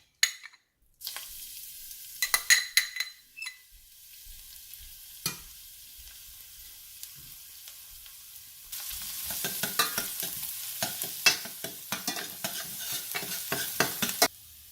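Crushed garlic sizzling in vegetable oil in a pan for peri-peri paneer fried rice, with scattered stirring clatter early on, then a steady, louder frying hiss building toward the end.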